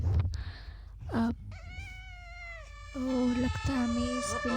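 A cat in a life simulation video game meows several times, each cry drawn out and wavering. The meows are clear and close, with a short thump between them.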